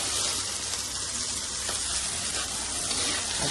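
Chopped tomato frying with onion in a pan, a steady close, loud sizzle holding evenly throughout with no voices over it.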